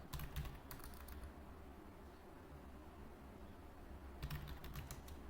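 Typing on a computer keyboard while entering data in Tally Prime accounting software, two short bursts of quiet, rapid key clicks at the start and end, separated by a stretch of faint room hiss.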